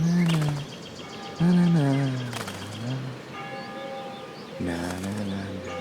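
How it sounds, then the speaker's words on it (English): Birds chirping and cooing around a character in the video game Life Is Strange, short musical calls over a soft ambient game background, moderately close with pauses between bursts. "The birds are flocking around Samuel."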